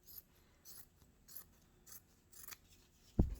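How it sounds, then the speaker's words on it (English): Scissors snip fabric for a trapunto stitching project, giving five or six crisp, evenly spaced cuts close by, followed by a single louder knock near the end. "So I'm just going to, whatever shape you were given in your little art packet, kind of trim it up"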